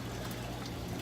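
Pumped water flowing steadily in a 300-gallon home reef aquarium, a dense continuous rushing and gurgling wash with a low hum underneath, close and unbroken, with no voices.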